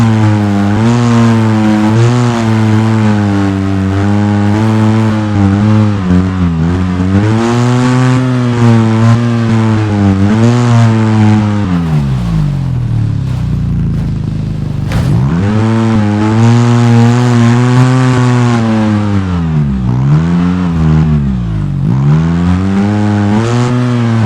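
An off-road vehicle's engine in the video game Overpass drones and revs continuously while it drives over pipes, loud and close, rising and falling in pitch with throttle changes and one brief dip near the middle.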